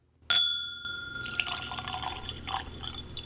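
A clear glass clink opens, then Loch Lomond whisky pours into the glass in a steady close gurgle lasting a few seconds, with no voices.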